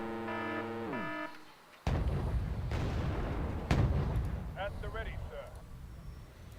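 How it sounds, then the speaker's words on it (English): Tank cannon fire in the Wargame Airland Battle video game: a sharp booming shot followed by a second loud blast a couple of seconds later, each with rumbling decay. Synthetic tones and chirps sound around them, and a voice talks. "So we'll just try and pull off a quick shot at him."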